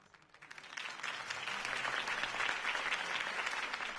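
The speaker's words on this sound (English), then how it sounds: "could have heard that applause" Crowd applause following a campaign speech in the Batman Telltale video game, clapping swelling up from quiet to a sustained, dense ovation that holds steady to the end.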